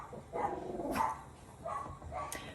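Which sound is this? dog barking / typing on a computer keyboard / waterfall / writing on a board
dog barking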